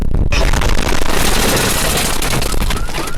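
A huge antimatter bomb explosion in Death Stranding roars loud and close, a dense, sustained crackling blast that fills the whole moment after a brief quiet start.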